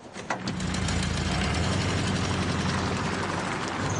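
A car engine drones steadily while driving along a little-used shortcut road, loud and close, with a broad rumbling hum and road noise continuing without pause.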